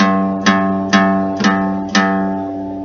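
A single plucked acoustic guitar note, fretted at the 3rd fret of the 1st string, repeats four times at an even pace, each attack bright and close, ringing between strikes.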